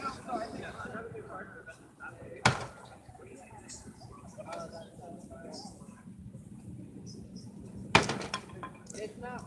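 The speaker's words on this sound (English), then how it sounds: "People are still smashing the TVs." Televisions being smashed at the 2018 Asbury University TV drop, two separate sharp crashing impacts several seconds apart, over steady crowd chatter and talk.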